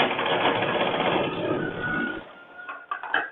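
Sewing machine stitching a boat-neck blouse with prince cut, a steady dense mechanical whir for about two seconds, then stopping into a few short clicks and clunks.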